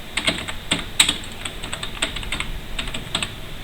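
Computer keyboard typing: a run of quick, crisp key clicks in irregular bursts with short pauses, close and clear, no voices over them.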